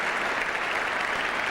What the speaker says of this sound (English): So the applause around the ground also for this 100 partnership